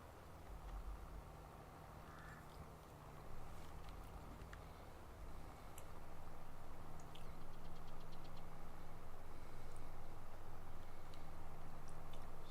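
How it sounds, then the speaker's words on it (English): A tractor engine in Farming Simulator 22 drones on at a steady low rumble with a knocking mechanical texture, growing louder midway as it pulls along, with faint clicks over the top. "This tractor is definitely beetling right along with this too."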